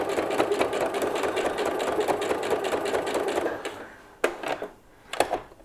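A sewing machine runs in a fast, steady stitching burst while sewing quilt binding on a hexagon quilt-as-you-go block, then stops, followed by a couple of short mechanical clicks and clunks nearby.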